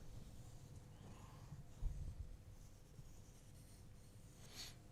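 Pencil drawing around a template laid centered on a piece of wood, a soft continuous scratchy rubbing that runs quietly for several seconds with a few brief louder scrapes.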